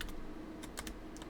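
Keys tapped on a computer keyboard in a short burst of light, irregular clicks, close and fairly quiet, with no speech.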